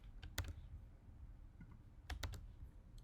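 Quiet computer keyboard typing: a few sharp key clicks, then a short cluster of taps and one more click, close and faint in a still room.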